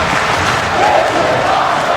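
A wrestling crowd at an independent Underground main event roars and cheers in a steady, dense wall of noise, loud and continuous without a break.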